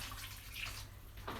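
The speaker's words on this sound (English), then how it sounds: "Add a big cup of water like that, and then another one." A big cup of water poured into a cooking pot of sausages and lentils gives a short, soft splashing gush that stops after about a second.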